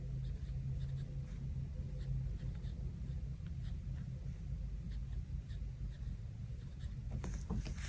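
A pen scratches and glides across the page of a Hobonichi Cousin paper planner in a quiet room, a soft, continuous writing rustle close to the microphone with a few light taps near the end.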